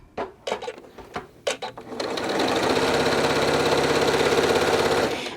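Sewing machine stitching a seam on a towel topper: a few short bursts of thumping at first, then a steady, fast, continuous mechanical whirr running for about three seconds before it stops.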